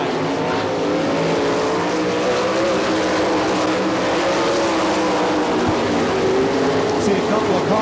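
Sprint race cars of the All Star Circuit of Champions at Attica, Ohio, roar steadily around the dirt racetrack, a dense continuous engine drone with rising and falling revs, loud and unbroken throughout.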